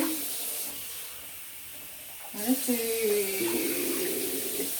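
Water running and splashing as it is poured into a slow cooker for curried sausages, a steady hiss that rises in pitch as the vessel fills, with a voice briefly talking over it.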